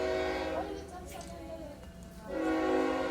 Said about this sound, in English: The train comes through.